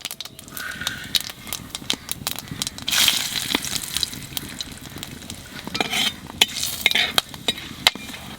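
Cumin, bay leaf, cloves, cinnamon and cardamom frying in hot oil, a loud crackling sizzle with sharp pops and bursts of spattering, close and steady throughout.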